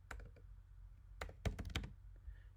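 Several quick bursts of computer keyboard typing while a book title is entered in an iPhone book tracker app, with short clustered keystrokes, pauses between them and a louder flurry in the middle, close and fairly quiet with no talking.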